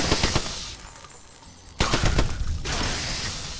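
The Lead Storm, an upside-down AK-style rifle in Fallout New Vegas, fires in loud rapid automatic bursts, with a long opening string that tapers into a pause, then another sharp volley and a lingering tail.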